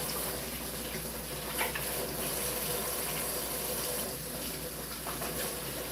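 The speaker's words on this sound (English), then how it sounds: "I'm gonna wash my hands up" Water runs steadily from a tap while someone washes their hands, a continuous close hiss and splash with small shifts in the flow and no talking.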